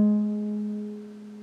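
Acoustic guitar 5th string plucked once at the 7th fret, a single clear sustained note ringing close and fading gently over a second and a half.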